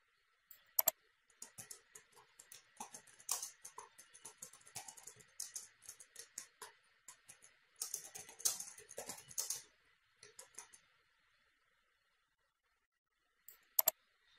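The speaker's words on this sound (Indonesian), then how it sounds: "Kita ketik huruf Romawi 2, kemudian titik, kemudian spasi" Quick bursts of keystrokes on a computer keyboard while a school exam sheet is built in Microsoft Word, clattering clusters separated by pauses, a final few isolated taps near the end, close and fairly quiet.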